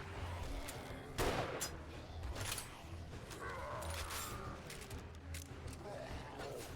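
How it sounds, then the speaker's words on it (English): A single-shot shotgun fires in 7 Days to Die: a few sharp, loud blasts spaced apart, with busy game noise running between them. "Oh yeah, the single shot shotgun."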